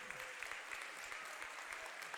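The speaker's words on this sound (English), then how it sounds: "the sportsmanship of Williamson County claps her off the floor" A basketball crowd at a high school game claps steadily for an injured player leaving the floor, a brief dense burst of applause from many hands.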